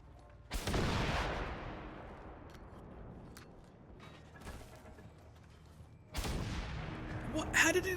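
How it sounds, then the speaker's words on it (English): In Generation Zero, two sharp, loud blasts go off, one early and one late, each decaying into a rumbling tail, with a quieter thump between them and a voice speaking faintly underneath. "How did it explode on the tree?"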